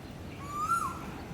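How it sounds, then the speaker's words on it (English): A single hooting bird call rises and falls once from up in a tree in Singapore, heard faintly at a distance over a quiet outdoor background. "Hear that bird?"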